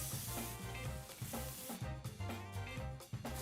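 Vegetables sizzling in a Lodge cast iron pan just after a steak was seared, a constant close hiss broken by rhythmic scraping and stirring strokes, with no talking.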